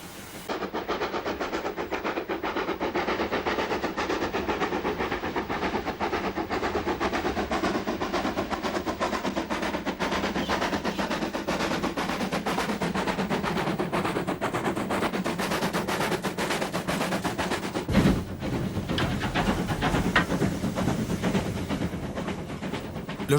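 Steam locomotive working hard on rails with its blower turned on, a dense continuous roar of steam and rapid chuffing throughout, loud and close, with a brief sharp disturbance near the end and no talk.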